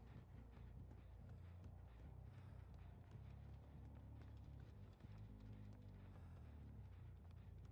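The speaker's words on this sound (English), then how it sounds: "I hear footsteps beneath me." Footsteps in the game Dead by Daylight, a steady rhythmic run of low thuds from somewhere beneath, continuous and moderately faint under a dense ambient game rumble.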